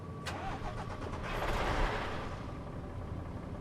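A Caterpillar truck engine cranks and fires up in SnowRunner, a short starter whine followed by a rising rumble that settles into a steady, moderately loud idle.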